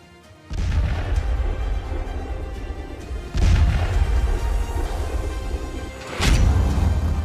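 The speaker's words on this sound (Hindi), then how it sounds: "सीरिया, लेबनान, गाजा में धमाके ही धमाके हो रहे हैं।" Three heavy booming blasts roughly three seconds apart, each followed by a sustained rumbling roar, like distant explosions.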